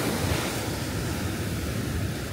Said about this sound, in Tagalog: Kita nyo yung hampas ng alon.